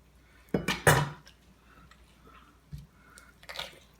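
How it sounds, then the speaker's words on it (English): A knife working through the thigh joint of a honey-brined turkey gives a few close, wet crunching cuts in quick succession, then quieter isolated snaps and squishes. "Just run that knife right along there."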